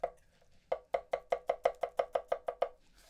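A Yoshikane bunka knife julienning cabbage on a board: about a dozen crisp, evenly spaced chops in a steady rhythm after a few light taps, close and clear with no talking.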